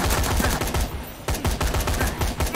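Rapid gunfire in the Dead Rising 3 video game crackles in tight, punchy bursts, loud and close, with a brief lull midway before the shooting resumes.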